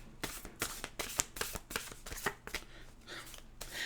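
A deck of oracle cards is shuffled by hand, giving a run of crisp riffling bursts in an uneven rhythm, close and fairly quiet, with no talking.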